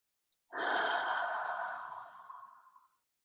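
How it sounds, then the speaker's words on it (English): A single long, deep breath taken during a guided heart meditation, a soft airy exhale swelling quickly then fading slowly over about two and a half seconds, close and alone with no talking. "Take a deep breath."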